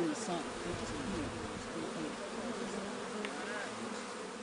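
Honeybees hum and buzz in a steady, close swarm around an open hive outdoors, a continuous drone with some individual bees passing nearer.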